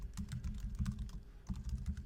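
Rapid keystrokes clatter on a computer keyboard in short bursts with brief pauses, close and fairly quiet, as a file name is entered with no one speaking.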